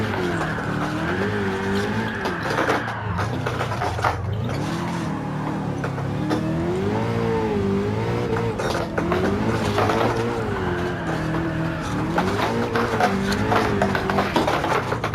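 A D1 drift car in Gran Turismo 7 runs at high revs in fourth gear, the engine droning and wavering continuously with tire squeal layered through the sustained, loud run.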